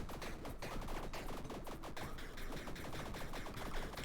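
Rapid weapon fire in the roguelike game Tiny Rogues crackles as a fast, dense stream of small shots layered over busy game music, steady and unbroken throughout.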